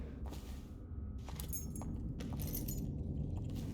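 Keys jangle in Dishonored: several bright metallic clinks and rattles in short bursts over a low, steady background hum, fairly close.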